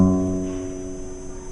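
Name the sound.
guitar note, 6th string 2nd fret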